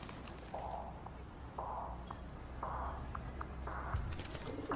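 Pigeons coo in short, soft, repeated calls about once a second, fairly faint against a low background hum.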